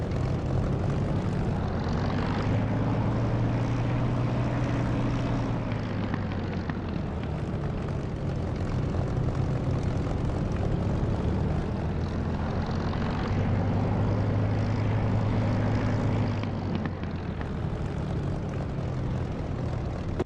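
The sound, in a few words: aircraft engine running in DCS flight simulator video game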